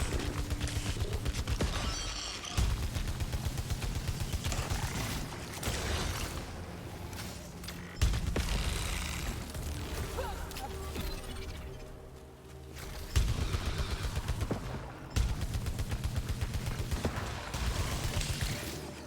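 Rapid weapon fire from the sci-fi shooter Returnal, bursts of repeated shots with impacts and mechanical clatter, loud and close amid dense game effects, with brief pauses between volleys.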